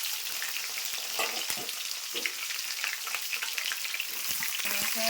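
Sizzling and crackling of drumstick, potato and jackfruit seeds frying in hot oil in a wok, a steady loud hiss with scattered pops and stirring scrapes throughout.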